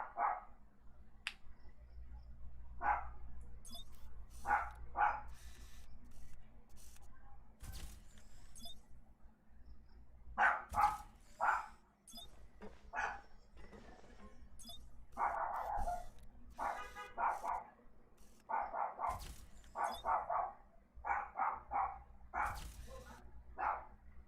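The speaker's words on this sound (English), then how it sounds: "Why is this dog so noisy?" A noisy dog in Genshin Impact barks repeatedly, short sharp yaps arriving in irregular clusters with brief gaps, fairly close and clear over a quiet background, with occasional soft talk between.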